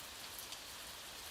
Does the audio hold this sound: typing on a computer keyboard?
no